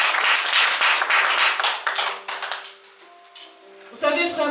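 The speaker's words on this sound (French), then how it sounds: "Est-ce qu'on peut acclamer pour nous?" Church congregation applauding together, a dense burst of clapping that tapers off after a few seconds before music or voices come in.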